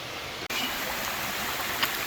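Lynn Hollow Creek on the Ozark Highlands Trail flows in a steady, moderately quiet rush of water with no voices.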